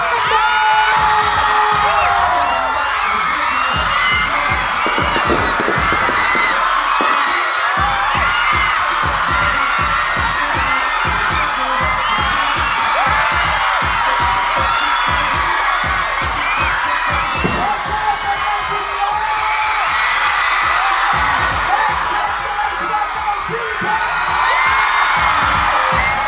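A large crowd at the Biñan Pride event in Biñan, Laguna cheers, screams and whoops continuously and loudly. A thumping beat runs underneath the whole time.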